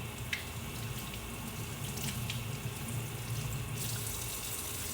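Water runs steadily from a sink tap while kale is rinsed, a constant close splashing rush with faint clinks and small bright spatters over about five seconds, no voices.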